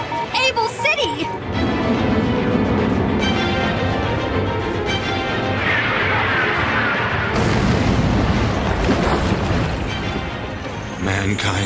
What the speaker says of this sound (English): Sigma then launches all the missiles in the city, killing everyone including Dr. Cain.